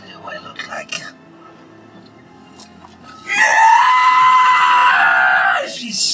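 A voice imitates a character screaming to the heavens: after some quiet whispery talk and light clinks, a loud, sustained, high shriek erupts and holds for about two seconds before breaking off.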